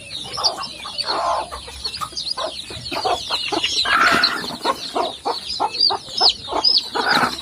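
A mother hen clucks among her chicks on a chick farm in Assam, with repeated close, rhythmic clucks over a busy layer of high chick peeps throughout.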